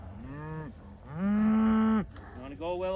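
Sheep in a Minnesota farm pasture bleat close by in a few separate calls: a short cry, then one long, loud sustained bleat, then another beginning.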